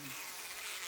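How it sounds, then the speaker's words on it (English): Buzzing of a swarm of bees in the horror video game Spirit Hunter: Death Mark, a dense continuous insect drone filling the whole moment at moderate loudness. "The buzz of bees fills the air."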